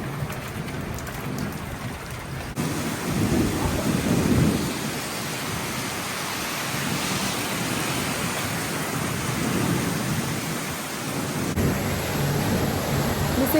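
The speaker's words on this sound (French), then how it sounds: "Mais c'est quoi ce temps de fou les gars? C'est la tempête." Thunderstorm over Paris with heavy rain pouring steadily on surfaces, low rumbles of thunder swelling and rolling beneath the dense hiss, loud and continuous throughout.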